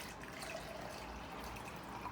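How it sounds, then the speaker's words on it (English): Water poured into a cup gives a faint, steady trickle and splash that runs without a break, soft and close, with no voices over it. "we poured the water into this cup"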